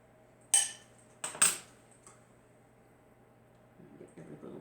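Crab meat scooped out of a container with a utensil: three sharp metallic scrapes and clinks close by, then quiet, with faint shuffling handling noises at the end.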